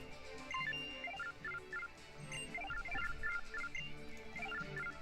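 A phone in Pokemon Moon rings with a repeating electronic chime, a bright melodic ringtone pattern cycling steadily over the game's background music.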